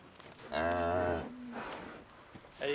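A cow on an organic dairy farm lets out a loud, drawn-out moo lasting nearly a second, followed by quieter lowing and another call starting at the end.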